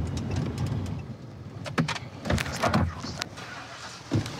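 A pulled-over car sits with its engine running, giving a low rumble under several thumps and short mechanical bursts, likely door or window sounds, at close range.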